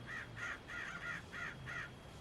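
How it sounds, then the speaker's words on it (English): Crows cawing in a repeated series of six harsh calls, fairly close and evenly spaced, over a low background rumble. "the crows are gathering"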